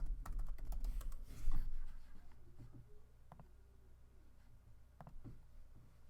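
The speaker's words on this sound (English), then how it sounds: "type in something like drop shipping" Typing on a computer keyboard, with quick clusters of key clicks early on, then sparser taps separated by pauses, all close and moderately quiet.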